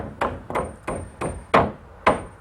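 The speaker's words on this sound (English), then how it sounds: "And it just gets nailed onto the bottom of the rafter tails." Six sharp hammer blows nailing pre-primed pine soffit boards onto the underside of a garden shed's rafter tails, evenly spaced about half a second apart, each a crisp close thwack with a short ring.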